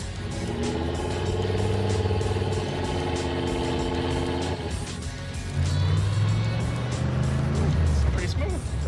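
A V8-swapped car pulls away with a steady, loud engine drone that shifts pitch midway as it accelerates, while people talk inside the cabin over the motor.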